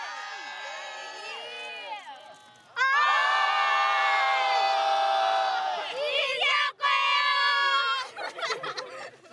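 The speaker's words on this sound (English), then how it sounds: "They shouted out to the ocean to feel the familiarity and beauty of the sea." High school students in Kuroshio town, Japan, shout together out toward the ocean: loud, ringing group cries in several sustained bursts, with brief pauses and scattered individual voices between them.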